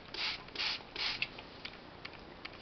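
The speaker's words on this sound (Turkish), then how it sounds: "Ondan sonra kapağını kapatıyorum." A plastic container lid being pressed shut over violet cuttings set to root, giving three quick creaky squeaks of plastic followed by a few softer clicks and ticks, close and alone.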